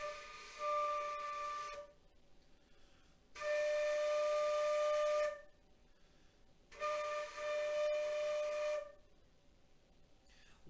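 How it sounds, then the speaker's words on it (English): A beginner's flute plays the note D in three sustained tones, each about two seconds long, separated by short breathy pauses. The tones are steady and fairly loud, with no talking. "When I press this combination of fingers and blow into my flute, I will create the note D"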